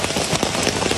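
Steady rain pours onto a mountain hiking trail, a dense, even hiss of drops pattering close by with no break and no voices.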